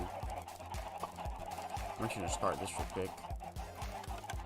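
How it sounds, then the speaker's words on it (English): Chickens on a big farm in a Minecraft-style game cluck repeatedly in short, rhythmic bursts, fairly close and constant, under a person talking. "this is my big chicken farm too"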